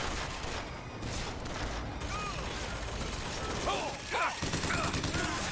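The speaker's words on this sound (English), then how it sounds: "Ah, I love the freaking Gatling gun sound" Rapid gunfire from a Gatling gun in the BioShock Infinite video game, a dense continuous burst of shots running through the whole stretch with voices mixed in underneath.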